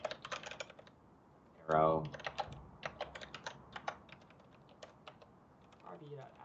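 Quick clicky keystrokes on a computer keyboard set to the Dvorak layout, typed in uneven bursts close to the mic, with a brief spoken word and a soft voice partway through.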